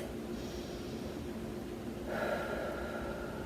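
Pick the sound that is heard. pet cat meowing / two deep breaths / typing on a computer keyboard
two deep breaths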